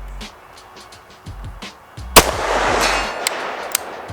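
A suppressor-fitted rifle fires a single standing shot, a sharp crack followed by a rushing broadband decay, after some quiet handling clicks and knocks, with no talking.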